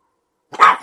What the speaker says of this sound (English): It's dogs.